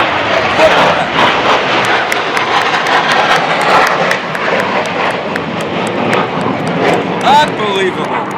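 Air National Guard planes make a flyover above the Westfield 350 parade crowd, a loud, sustained roaring engine rumble overhead with excited voices from onlookers talking and exclaiming over it throughout.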